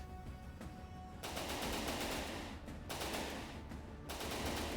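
Rapid automatic gunfire in the naval combat game From the Depths, a dense, loud stream of shots in several long bursts separated by brief pauses, with no talk.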